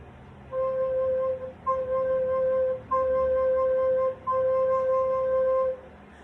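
A soprano recorder plays four sustained low C notes one after another with short breaks between them, clear and steady with no other sounds.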